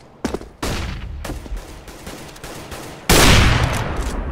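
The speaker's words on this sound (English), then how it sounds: "I'm throwing a flashbang." A flashbang grenade from Counter-Strike: Global Offensive goes off amid sharp game gunfire bursts, ending in a loud, sustained broadband blast that fills the last second.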